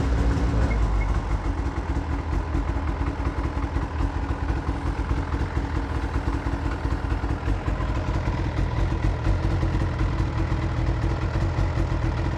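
A vintage Ski-Doo snowmobile engine runs steadily nearby, a continuous clattering two-stroke idle with no breaks and no talk over it.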